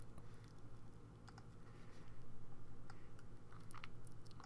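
Faint, scattered clicks from a computer mouse during work in Photoshop Elements, several light taps spread irregularly over a low steady room hum, with no talking.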